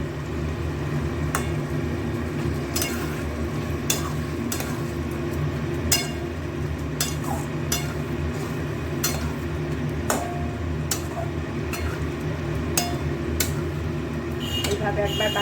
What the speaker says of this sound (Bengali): এবার হাফ বাকিটা এখন উপরে দিয়ে একটু নাড়িয়ে চালিয়ে রেখে দেবো